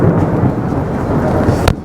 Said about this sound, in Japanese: 武蔵小山降り立った瞬間にね、落雷ありましたけども